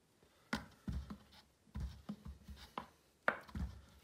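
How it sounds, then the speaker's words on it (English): A scoop and a half of protein powder going into a bowl: a handful of soft, dull scraping and tapping knocks, irregularly spaced and close by. "we're just going to put a scoop and a half of protein powder into this bowl"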